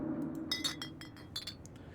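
A shot glass clinking in the game Scarlet Hollow, a quick series of bright glassy chinks and taps of varying loudness over a low background hum.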